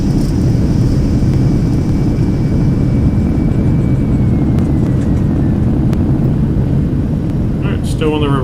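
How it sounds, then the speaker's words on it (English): A Boeing 757 runs its thrust reversers after landing in the X-Plane 11 flight simulator, giving a loud, steady broadband roar with a faint whine that fades slowly. "Alright, still on the reversers."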